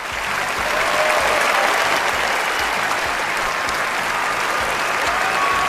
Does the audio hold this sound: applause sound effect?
yes